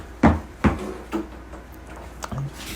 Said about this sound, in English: Can you shut this door, please?